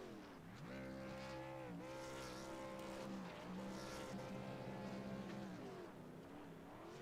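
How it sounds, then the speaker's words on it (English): A pickup truck in the Truck Series at New Hampshire, raced in a PC video game, holds a sustained smoky burnout on the start-finish straight, its engine roaring loud and steady with rising and falling revs throughout. "He's going to pull it on the start-finish line straight and smoke those tires for us."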